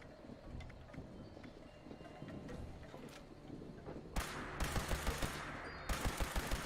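Automatic gun in a video game firing in short rapid bursts, crisp repeated cracks over a steady game ambience, two clusters of fire near the end.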